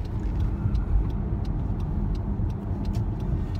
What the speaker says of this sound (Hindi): तो चले मैं उधर पे पार्किंग में गाड़ी लगाता हूँ